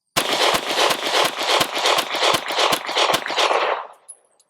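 A Sig P365 pistol empties a nine-round magazine of mixed 124-grain Blazer, Independence and PPU NATO ammunition. Loud sharp reports fire in rapid succession over a dense roar, then stop abruptly and trail off, with no talking.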